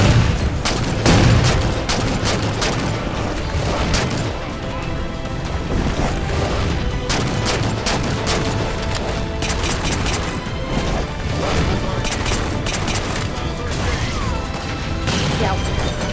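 Dense, sustained gunfire from a video game, with rapid overlapping shots and bursts firing nearly without pause. The barrage is loud and close throughout, with little audible talk.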